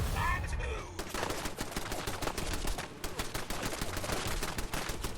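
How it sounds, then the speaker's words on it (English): Heavy gunfire in Fallout 4 while playing the Automatron DLC: dense, continuous rapid shots crackle loudly and steadily throughout. "Who's shooting at me?"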